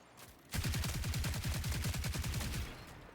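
A rapid burst of automatic gunfire from the video game Marathon: roughly twenty sharp, evenly spaced shots fire in quick succession after a brief quiet moment, then the burst cuts off into a faint tail.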